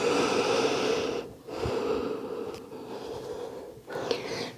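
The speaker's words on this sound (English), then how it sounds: "just breathing in and out through the nose just to slow down your breath" Slow breathing in and out through the nose during an at-home Pilates workout: soft, airy, close breaths in several long rising and falling passes, with short gaps between them.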